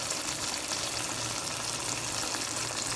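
Tomato sauce for beef menudo bubbles and sizzles in a pan while it is stirred, a steady close hiss with a wet simmering texture and no voices over it.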